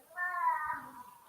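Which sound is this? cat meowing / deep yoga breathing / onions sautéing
cat meowing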